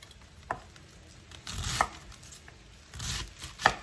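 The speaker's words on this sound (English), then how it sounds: "I'm just slicing it into thin slivers" A knife slices through cabbage on a cutting board, giving a few sharp, separate cuts spaced apart with soft scraping between them, close and fairly quiet.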